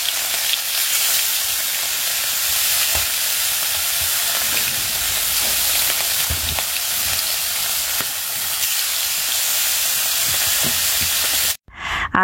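Fish rubbed with salt and turmeric frying in a pan, giving a loud, continuous close-up sizzle and hiss with small pops and crackles that runs unbroken until a brief cut near the end.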